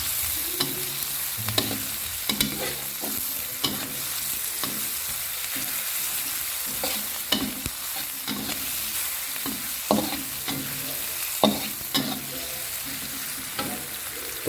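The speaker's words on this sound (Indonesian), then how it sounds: "Nah, kita oseng-oseng terus seperti ini." Chili and crushed lemongrass stir-fried in a pan for a smoked fish and eggplant dish: a steady oily sizzle broken by repeated scraping, clacking spatula strokes at an uneven rhythm, close and fairly loud, with no voices.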